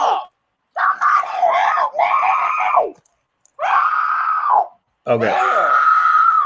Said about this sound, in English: That the rest of that is her hollering and screaming